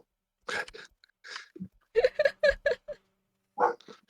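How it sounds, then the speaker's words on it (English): A pet dog gives short, muffled barks and soft woofs indoors at something heard outside, a couple of isolated sounds followed by a quick cluster of four or five, then one more bark after a pause. "She's a very diligent guard dog."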